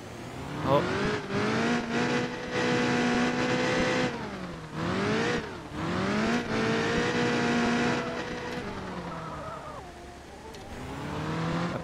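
A drift car in the PS4 game Driftzone revs hard and rises in pitch through gears, dipping and climbing again with tire squeal, engine loud and close, while a voice talks over it.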